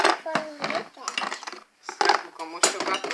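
Dishes, pots and cutlery clattering into a kitchen sink in a rapid, loud, irregular series of clanks, with someone talking in between.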